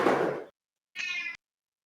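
A cat meows twice, close and loud: a long, throaty first call, then a brief pause and a shorter, higher meow, alone with no talk.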